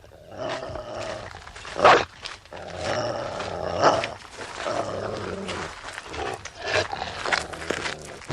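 Large chained dog growling and snarling, a deep rumbling roar that rises and falls in several loud surges across a tense scene.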